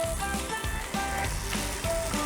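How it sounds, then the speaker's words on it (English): Steady crackling sizzle of tandoori chicken cooking in an air fryer, a bright hiss with small pops, close by and fairly loud. "you hear it sizzle."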